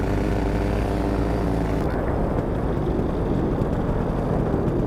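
A paramotor engine drones steadily during a powered spot landing, a loud close propeller hum that shifts pitch partway through as the throttle changes, with no voices.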